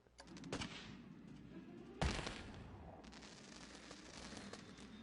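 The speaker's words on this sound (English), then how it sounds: "We need like a pink and purple fireworks here." Firework bursts in the Planet Coaster theme-park game, pink and purple shells around a ride: two sharp booms with crackling tails over a steady low rumble, fairly loud and without talk.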